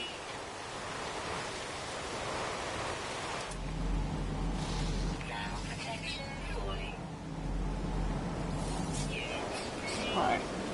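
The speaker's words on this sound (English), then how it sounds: "Storms are coming." Rain hisses steadily and thunder rumbles low during an incoming storm on an alien planet in No Man's Sky, with a person talking over it.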